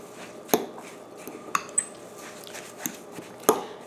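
Quick cooking oats mixed into batter in a mixing bowl, with a few sharp clinks of utensil on bowl scattered over soft stirring and scraping, close and moderately quiet, with no voices.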